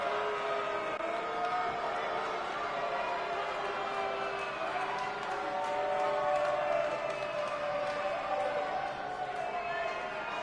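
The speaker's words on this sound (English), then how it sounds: "The whole crowd is booing the hell out of Viktor Sokolov, wanting nothing to do with him here in iNCW" A large arena crowd at an iNCW wrestling show boos loudly and steadily throughout, a dense sustained roar of jeering voices filling the room.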